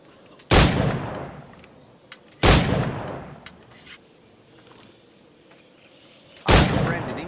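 Three heavy, booming firearm shots from Assassin's Creed IV Black Flag, spaced several seconds apart, each a sharp close blast with a rolling decay over quiet game ambience.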